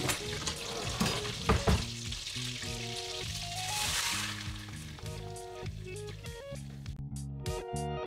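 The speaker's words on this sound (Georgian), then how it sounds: "ბრინჯი უნდა ვშუშოთ" Rice frying in butter in a pan for a Turkish-style pilaf, with constant sizzling and the scrape of stirring coming through in uneven bursts, close and fairly loud, before fading toward the end.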